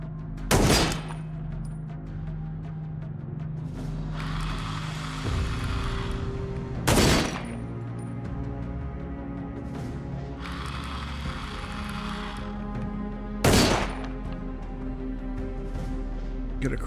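Three loud, heavy gunshots at a firing range in the video game Ground Zero, spaced several seconds apart, each followed by mechanical reloading clatter over a steady low game drone, with no speech.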